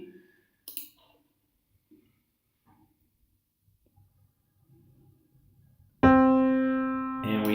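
A sampled middle C note triggered in the AudioHelm sampler inside Unity, entering abruptly after faint clicks and near silence, then sustaining loudly and steadily as a bright tone instead of cutting off.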